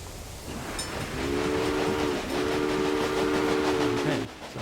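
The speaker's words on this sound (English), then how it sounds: "Okay, so there goes the train." A steam locomotive pulls out of Norfolk in the Railway Empire game, giving long sustained whistle blasts with a short break, over a steady rolling rumble of the train starting off.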